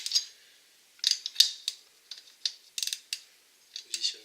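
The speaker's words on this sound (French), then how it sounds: "Positionne bien le cliquet, comme ça" A ratchet wrench tightening wheel nuts a quarter turn at a time, bursts of sharp metallic clicking in short runs separated by pauses, close and crisp.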